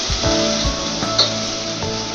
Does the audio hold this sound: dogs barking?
no